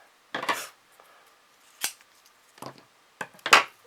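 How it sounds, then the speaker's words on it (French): Scissors snipping double-sided tape and ribbon for a maritime-themed mini scrapbook album, five or six sharp separate cuts spaced irregularly over near silence, close and crisp. "Je coupe mon double face, mon ruban, je vais le couper en deux."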